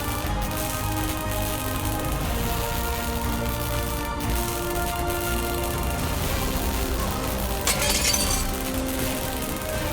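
Glass door of a fire cabinet shattering in the adventure game Secret Files 3: Archimedes Code, a sharp burst of breaking glass near the end over a steady, dense game background.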